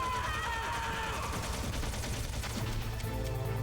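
Gunfire in the Metal Gear Solid video game at Shadow Moses: dense, continuous game-audio bursts of shots mixed with music and sound effects, loud throughout, with character voices in the mix.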